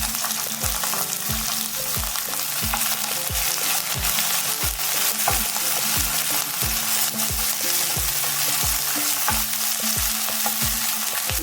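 Cumin, green chilies and finely chopped onions frying in a pan with a dense, steady sizzle, while a spoon or spatula scrapes and taps the pan in a regular stirring rhythm.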